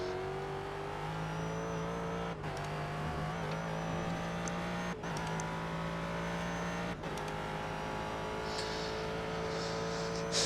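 GT race cars in the iRacing sim produce a loud, steady engine drone with rising pitch through each gear and brief dips at three upshifts, while other cars whine faintly nearby.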